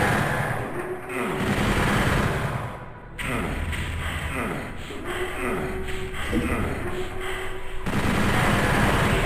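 Rapid chaingun fire in Doom 64, a dense stream of sharp repeated shots against imps, loud and continuous with game effects layered over it, no talking.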